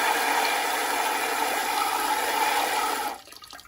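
A LUXE Bidet NEO 320 Plus attachment on a toilet seat sprays water on its feminine setting, a steady, close hiss of water for about three seconds before it cuts off abruptly.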